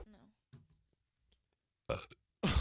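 A close, loud burp after drinking water comes near the end, following quiet bits of talk and faint mouth noises.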